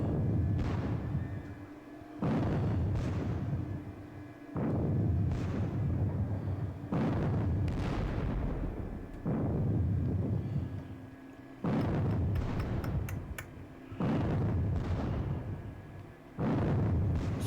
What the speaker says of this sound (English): So far, the artillery is just chipping away, bit by bit.